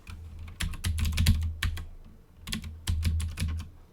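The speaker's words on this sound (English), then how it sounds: "I typed it in already" Rapid bursts of keystrokes on a computer keyboard while a Linux package install command is entered in a terminal, clattering in quick clusters with brief pauses between runs, close and fairly loud.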